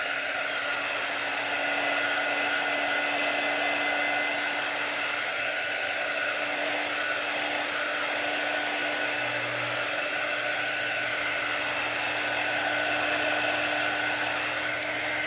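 A hair dryer blows steadily to dry chalk paste on a letter board, a continuous close whine and rush of air with a faint shift in tone partway through, no voices.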